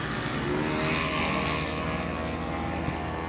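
Race cars roar steadily through a mains race at a season-finale event, engine noise dense and continuous at constant loudness, with no clear single pass standing out.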